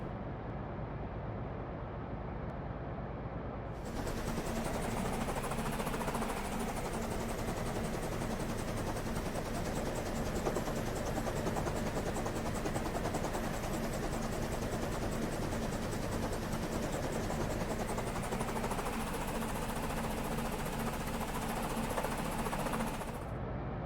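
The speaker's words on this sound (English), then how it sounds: "now you can just fly the Petrel around as you would any other aircraft" Petrel aircraft from a video game flying with a seal slung underneath, a steady loud rotor-like drone with rhythmic chopping that swells in after a few seconds and holds, with no voices.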